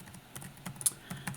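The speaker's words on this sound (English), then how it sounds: "It's just me typing gibberish." Rapid typing on a computer keyboard, a quick irregular run of close, light key clicks with a few louder taps, no voices.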